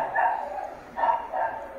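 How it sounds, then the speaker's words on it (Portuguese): A dog barks in three or four short, close bursts spread over about two seconds, with a faint room hum between the barks. "Um cachorro."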